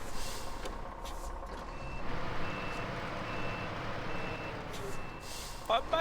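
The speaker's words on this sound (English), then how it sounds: "Let me just move this conveniently placed repair truck." Repair truck backing up in the off-road driving game SnowRunner, with a steady rumbling engine and a faint reversing beep near the end, in a quiet game soundscape.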